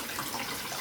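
Warm tap water runs steadily over peace lily roots to rinse away the soil, a close, even gushing wash with no talk.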